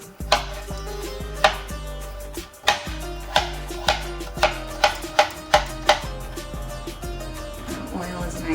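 A knife chops potatoes on a cutting board in a home kitchen, a loud, close series of sharp cuts, some slow and spaced, then a quicker burst of about a dozen evenly timed strokes, with no talk.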